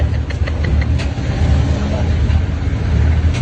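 Engine rumble of a jeepney riding through city traffic toward Divisoria, a steady low drone throughout with passing vehicle noise around it.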